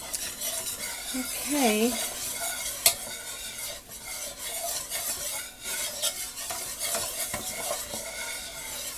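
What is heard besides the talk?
stirring flour into hot oil in a pan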